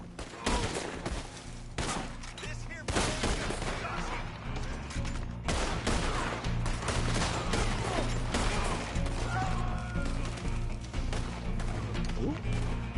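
Dense video-game gunfire rattles through the whole stretch, with rapid bursts and sharp impacts over a steady low rumble and background game noise, loud and close.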